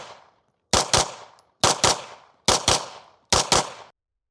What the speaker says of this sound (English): the footage I'm about to show you where I shot the 115 grains after the 9-pound spring got put in